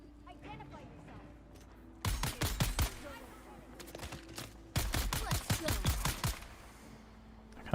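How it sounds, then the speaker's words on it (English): Automatic rifle fire in the video game Dune: Awakening comes in two loud, rapid bursts of closely spaced shots, each lasting about a second and a half, with quieter game sounds between them. "I forgot this rifle was automatic."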